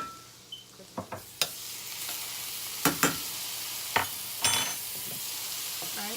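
Garlic and shallots sauteing in butter, a steady sizzle running throughout with several sharp stirring scrapes and clatters of the spoon against the pan, close and fairly loud, no talking.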